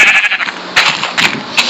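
Sheep in the Minecraft video game give a quick string of loud, close, raspy bleats with short gaps between them.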